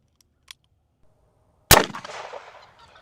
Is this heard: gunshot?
yes